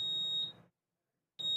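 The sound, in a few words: door alarm beeping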